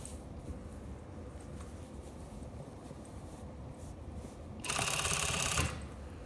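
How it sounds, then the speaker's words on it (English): A sewing machine top-stitches along a dress neckline in one short, fairly quiet burst of rapid stitching over a low background hum. "When you do the top stitch, notice how I'm pulling the fabric so it's right on the edge."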